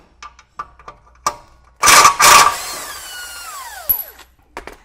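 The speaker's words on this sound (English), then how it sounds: "we're just going to hit that real quick with the impact" Impact wrench hitting a 17 mm bolt under a 200 Series Land Cruiser during a suspension install, two loud short hammering bursts preceded by light clicks and followed by a whining spin-down and small metallic taps.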